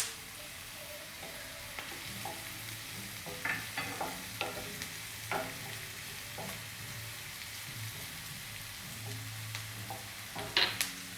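Coriander seeds sizzle and crackle in a hot frying pan with steady frying hiss and occasional stirring scrapes, a brief louder crackle near the end, cooking cauliflower with coconut.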